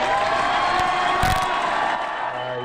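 Crowd of supporters at Ruben Gallego's election night rally in Arizona cheering and whooping loudly, a dense, sustained roar from a large gathering, close and continuous.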